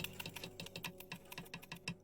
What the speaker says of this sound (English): I am right-clicking.